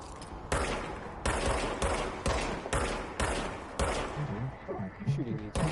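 Bursts of gunfire from a gun in the video game Control, several loud sustained volleys separated by short pauses, with quieter clatter and game sounds between them.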